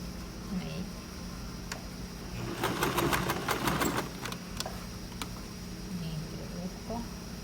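A sewing machine stitches a shirt collar in a steady mechanical whir, with a quicker, louder run of ticking clatter in the middle and faint low voices in the background.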